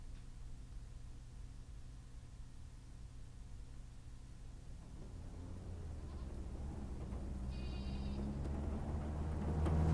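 Goats bleating in the back of a truck carrying soldiers in a video game cinematic, faint cries over a steady engine rumble and hiss that swells toward the end.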